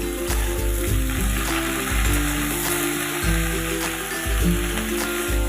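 Chopped pumpkin leaves hiss and sizzle in a hot pan of oil, a loud, steady frying crackle that runs throughout, with sustained musical tones underneath.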